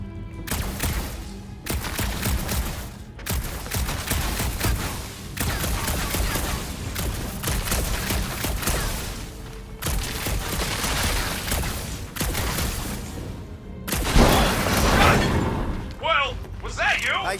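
Sustained bursts of gunfire and impacts in Guardians of the Galaxy, volleys breaking off with brief gaps between them while voices talk over the action.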